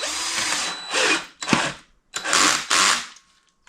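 Cordless power drill driving and tightening compression plate screws on a Yixiang DIY battery box, in several separate whirring bursts with short pauses between them, close and fairly loud, with no talking.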